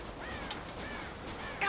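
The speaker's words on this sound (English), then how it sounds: "God damn crows!" Crows caw in a Red Dead Redemption farm scene, two or three faint, drawn-out calls over a low outdoor game ambience, with no voices.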